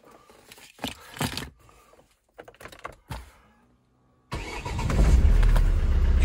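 Car engine starting from cold: a few clicks and knocks, a short silence, then the engine fires abruptly and settles into a loud, steady running roar.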